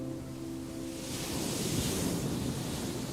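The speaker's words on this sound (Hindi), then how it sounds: "ये जो लहरों की म्यूजिक है, इसको हम फील कर रहे हैं। लहरें आ रही है," Sea waves washing up on the shore, a steady broad rushing wash swelling slightly louder midway, heard at moderate distance with a faint low tonal hum early on and no voices.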